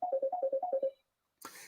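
A telephone ringtone sounds nearby with about eight quick, even electronic beeps in a steady rhythm, then stops; after a short silence a brief burst of noise follows.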